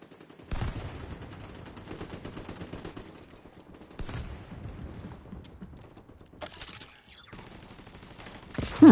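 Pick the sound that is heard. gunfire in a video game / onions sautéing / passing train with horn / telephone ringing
gunfire in a video game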